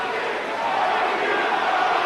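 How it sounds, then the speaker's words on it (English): A boxing arena crowd shouts and roars as Augie Sanchez presses Naseem Hamed, forming a dense, loud, continuous wall of voices that runs steadily throughout. "Augie, now the crowd shouts."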